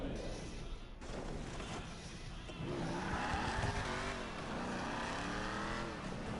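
A car in a PS4 racing game drives on with a continuous engine drone that rises in pitch as it accelerates through the gears. A faint tire squeal appears early, and no voices are heard.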